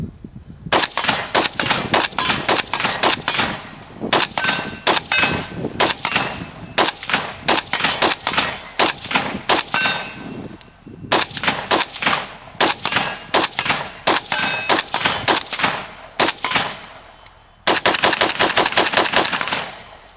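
Krebs Custom M23 rifle chambered in 7.62x39 firing outdoors, long strings of rapid, loud, sharp reports with metallic ringing, broken by short pauses and ending in a fast burst.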